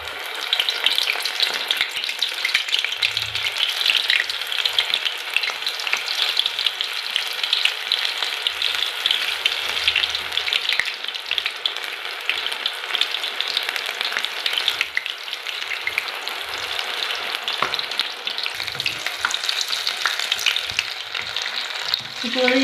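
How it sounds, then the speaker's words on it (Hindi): Green onion pakoras frying in hot oil, a continuous close bubbling sizzle that stays steady throughout, with a few soft knocks and clatters underneath. "ऑयल हमारा अच्छी तरह से गर्म हो गया है। अब हम इसमें पकौड़े डालना शुरू करेंगे।"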